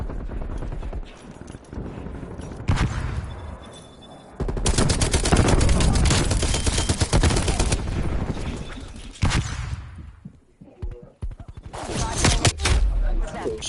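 Hostile sentry turret in a video game unleashing long bursts of rapid automatic gunfire, loud and close, broken by short pauses and a quieter stretch, with a voice speaking briefly in between.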